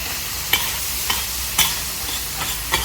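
A vegetarian curry is stirred into chopped parotta on a hot pan, giving a steady sizzle with a few sharp scraping knocks of the utensil spaced through it.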